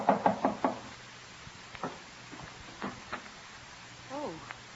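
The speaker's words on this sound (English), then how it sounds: "Elizabeth hears a knock at her door." Four quick raps sound at a door in an old-time radio drama, crisp and close, followed by a pause and faint scattered voice fragments.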